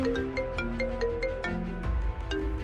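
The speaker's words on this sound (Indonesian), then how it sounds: "Ada telepon dari SPGDT" A phone ringtone plays in a hospital emergency coordination setting, a bright melodic tune of quick repeated notes sounding loud and close.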